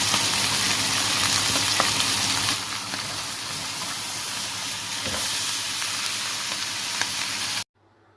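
Chicken pieces sear in ghee in a very hot pan with a loud, dense, continuous sizzle and hiss that holds steady for several seconds before cutting off, close and with no talking.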